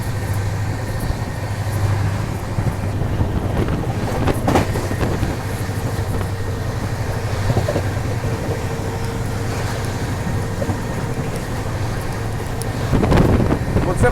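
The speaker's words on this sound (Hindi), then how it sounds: "अब सामने से आ रही है बिहार संपर्क क्रांति एक्सप्रेस।" Bihar Sampark Kranti Express passing on the Delhi–Kanpur section near Khurja, heard from aboard another moving train: a steady, close rumble with rail clatter and buffeting wind that swells into a louder rush near the end.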